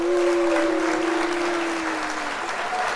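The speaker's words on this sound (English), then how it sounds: "round of applause for my sisters for holding it down" Applause from an audience, a dense, steady round of clapping heard close and loud for a few seconds, with a faint voice briefly over it.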